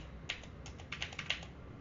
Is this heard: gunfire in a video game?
no